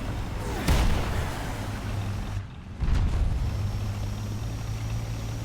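Gunfire and artillery blasts aimed at a player's vehicle crossing a field in the tank game War Thunder, with a steady engine drone under heavy booming impacts near the start and again around the middle, no voices.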